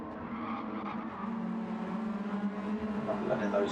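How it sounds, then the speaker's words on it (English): A Honda Civic race car circles the Nürburgring Sprint Circuit, its engine droning steadily while the tyres squeal in a long sustained cornering note, with race commentary faintly underneath. "Letting those tyres squeal around these corners"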